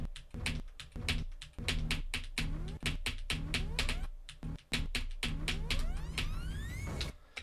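Rapid computer keyboard clicking during a Geometry Dash level, dense bursts of sharp, close taps in an uneven rhythm with brief pauses, crisp and steady throughout.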